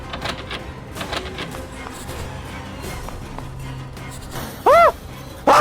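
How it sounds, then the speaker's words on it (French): A door in a horror video game creaks open with two sharp rising-falling squeals near the end, after quiet ambient knocks and creaks, fairly close and loud. "Oh oui, la porte!"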